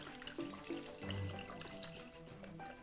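Water pours into a pot to cover broth ingredients, a continuous close splashing and gurgling stream running throughout at a moderate level.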